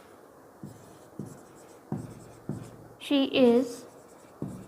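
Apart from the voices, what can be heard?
writing comparative example sentence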